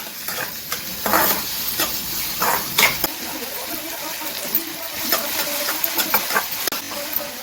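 Onions frying in oil in a small pan for a fish curry, with steady close sizzling and crackling broken by stirring scrapes and occasional louder pops throughout.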